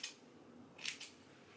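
Scissors snip through natural tapered hair, cut bluntly at an angle: two or three quick, crisp clips close up over a low steady hiss, with no talking.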